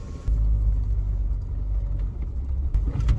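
Thar SUV sliding and labouring through thick muddy slush on a one-lane road, a steady low engine rumble close by with a few sharper bumps near the end and no talk.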